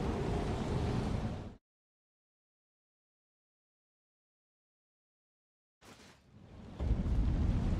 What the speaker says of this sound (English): That's just random lightning.